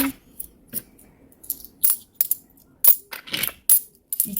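Coins are counted out and dropped in one by one, giving a series of sharp metallic clinks in an uneven rhythm with short pauses between them.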